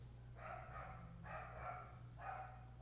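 A dog barks three times, somewhat distant and muffled, each bark a short burst with a steady low hum underneath and no talking.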